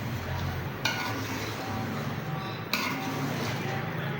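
A spoon stirs spices into karahi in a pot with a steady scraping swish, broken by two sharp metallic clinks against the pot's side, all close and over a constant background hiss.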